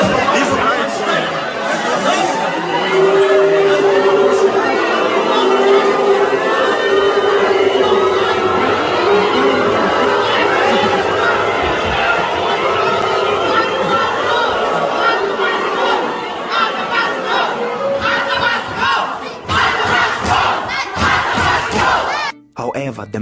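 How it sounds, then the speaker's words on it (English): A furious crowd shouts and chants continuously around a speech at a South African university, a dense, loud wall of voices that stays steady before breaking into scattered bursts near the end. "He made this speech in front of a furious crowd"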